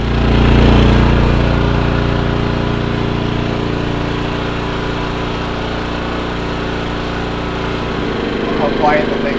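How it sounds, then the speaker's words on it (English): A 2200 watt inverter generator runs steadily on a bowfishing boat, a constant engine drone with a low hum, louder at the start and then settling into an even, moderately close rumble. "So all these lights are powered by a 2200 watt inverter generator."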